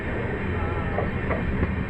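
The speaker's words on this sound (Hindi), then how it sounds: "आनंद जंक्शन से स्किप कर रही है स्लोली हमारी ट्रेन।" Jodhpur Dadar Express train rolling slowly through Anand Junction, a steady close rumble of wheels and carriages with faint rhythmic clatter, no voices.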